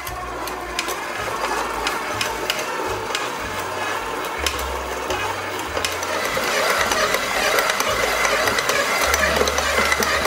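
An electric stand mixer kneads bread dough for a homemade Hungarian-style loaf, with a steady motor whir and rhythmic churning that grows slightly louder toward the end, alone without talk.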